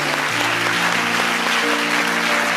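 A church congregation applauds during a French-language sermon, a steady, dense wash of clapping that carries on throughout, with sustained musical tones beneath it.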